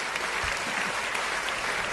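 A round of applause from a crowd at a Smash Bros. livestream commentary event: dense, steady clapping that fills the whole moment at an even level.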